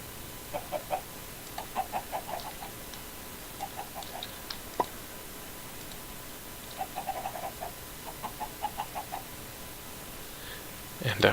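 Blocky Minecraft chickens in the Stoneblock modpack give repeated short clucks in small groups over steady background hiss. A single sharp click sounds midway, and a louder burst comes at the end.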